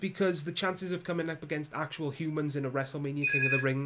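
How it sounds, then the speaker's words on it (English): A mobile phone rings under continuous close speech, a steady electronic ringtone cutting in near the end over the talking voice. "My phone ringing as I'm recording a video for you guys"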